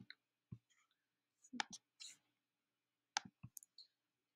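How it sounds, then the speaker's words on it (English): Computer keyboard typing, a handful of sharp isolated key clicks in irregular bursts with quiet gaps between, close and soft, a faint whisper-like voice in places. "Okay, so I'm going to type all this in."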